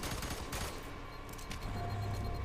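Rapid gunfire in F.E.A.R. 3 rattles through a suburban firefight, dense bursts of shots rolling on continuously and fairly loud.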